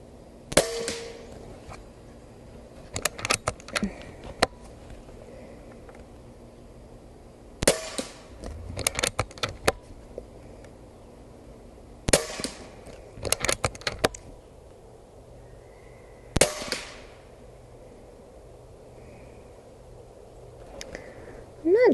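A Umarex Origin .25 caliber airgun fires 33.5-grain NSA slugs outdoors: sharp, snappy cracks in small clusters, each with a brief ringing tail, separated by quiet gaps.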